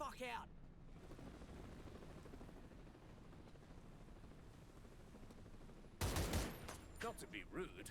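Enemy gunfire in the turn-based game Warhounds, a dense steady crackle of distant shots running continuously, then sharper, louder bursts near the end.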